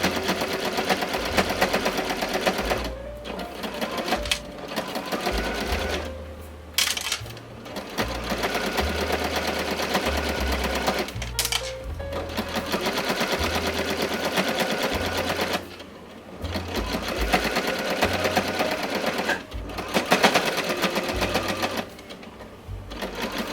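A sewing machine runs almost nonstop, understitching the hem of a cropped t-shirt, with a rapid mechanical whir and brief stops and restarts between seams.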